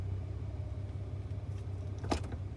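A vehicle reverses toward a trailer before a skid steer is loaded, its engine a steady low rumble with a brief metallic rattle near the end.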